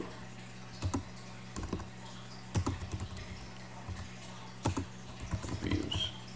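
Typing on a computer keyboard, a faint close patter of irregular key clicks in short bursts separated by brief pauses, with no talking.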